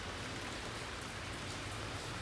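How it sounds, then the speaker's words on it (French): Steady rain falls outside on a December afternoon, an even, continuous hiss of drops hitting surfaces, moderately faint and unbroken. "Là, il pleut dehors, c'est l'enfer, hein."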